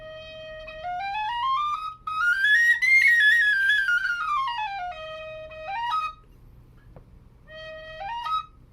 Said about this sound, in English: I feel like that's a very passable E flat whistle